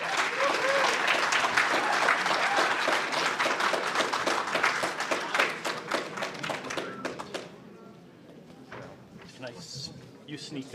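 An audience at an Alberta NDP nomination event claps loudly and steadily in welcome, the applause thinning and fading after about seven seconds into scattered claps and murmuring voices.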